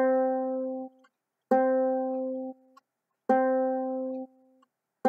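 Ukulele C string, the third string, plucked three times at an even pace. Each note rings out clean and sustained before fading, with short gaps between plucks and no voices.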